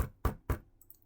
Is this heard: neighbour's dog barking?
no